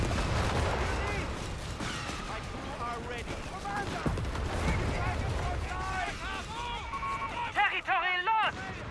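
Distant battlefield gunfire in the WWII strategy game Company of Heroes 3 with a German Afrikakorps force, scattered rifle and machine-gun bursts under steady game chatter and unit voice lines, with a brief cluster of chirpy tones near the end.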